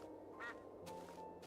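Duck in a Minecraft-style video game quacks twice in quick succession, soft and somewhat distant over a low background hum.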